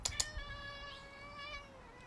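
Dice, a foster cat, lets out one long, clear meow close by after a couple of quick knocks, with no talk over it.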